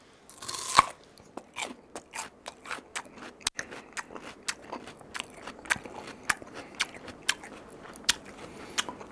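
Raw radish is bitten and chewed up close, giving a loud first bite and then a steady run of sharp, wet crunches at a regular chewing rhythm.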